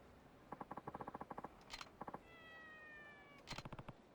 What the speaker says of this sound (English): That's not a happy cat.